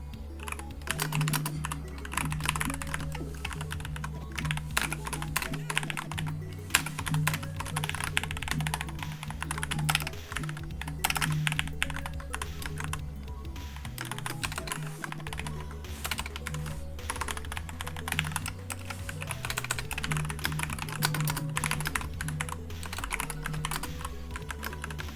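Dense, continuous typing on a computer keyboard with somewhat sticky keys, rapid clicks and clatters running close and steady for the whole stretch over a low hum, with no talking.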